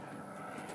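A fixed-wing airplane drones overhead on a morning walk, a faint, steady distant engine hum holding through the whole brief moment, with no talk.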